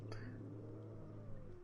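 A cat meows indoors in Project Zomboid Hydrocraft, a faint drawn-out caterwaul over a low steady hum, with a short sharp click at the start and no talking.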